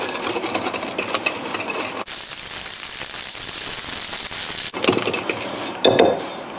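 Calamansi muffin batter being combined in a bowl, heard as close scraping and clinking of a utensil against the bowl, broken by a stretch of steady whirring hiss, with no voices.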